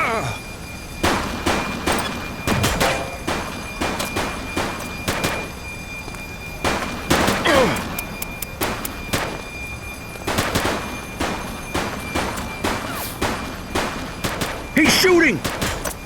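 Repeated bursts of gunfire crack through a police video game firefight, with sharp single shots and rapid volleys spread across the scene over a steady background din, some voices mixed in.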